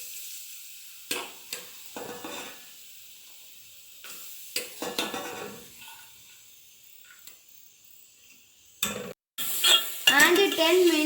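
Carrots stirred and cooking in ghee in a pan, with scraping clinks of a utensil against the pan in short bursts, a soft sizzle underneath and a louder clatter near the end.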